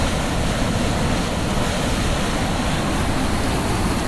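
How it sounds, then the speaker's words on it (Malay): Continuous rushing roar of river rapids in a Pahang forest reserve, a steady dense wash of water noise with no breaks. "Ni kawasan air jeram"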